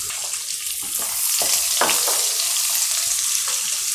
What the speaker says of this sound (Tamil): ஜீரகம் பொரியட்டும்.